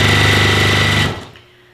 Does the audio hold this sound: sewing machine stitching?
yes